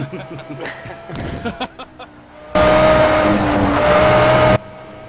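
An Audi R8 LMS Ultra GT3 race car engine in a racing simulator at Le Mans, a loud sustained roar at steady high revs for about two seconds after a stretch of quieter clicks and murmuring voices.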